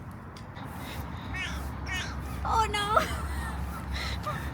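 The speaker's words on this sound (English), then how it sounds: "That's one weird cawing of a crow." A crow caws near Hove Beach in the UK, giving a few odd, raspy calls over outdoor background noise, and a person briefly exclaims during the calls.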